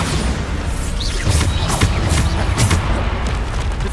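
Bombarda spell blasts going off in Hogwarts Legacy, a loud run of heavy booming explosions and crashing impacts that overlap in quick succession, with a constant rumble of combat underneath.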